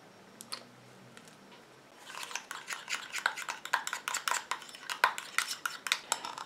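A small utensil stirs homemade rose BB cream in a little container, starting with a few faint taps and then a quick run of sharp clicking scrapes and knocks, close and distinct.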